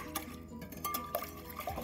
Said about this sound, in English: Now I'm going to give it a nice stir.